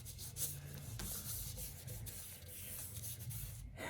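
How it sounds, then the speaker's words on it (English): Wet paper pressed flat against a surface is rubbed firmly with the hand, giving a steady, close scuffing and swishing that runs continuously without pauses. "You press it down, rub it really good like this."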